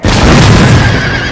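A single loud, booming cannon shot from an Empire: Total War battle, a dense full blast that stays strong and slowly fades.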